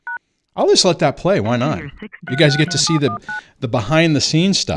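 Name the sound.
telephone dialing DTMF tones calling into studio line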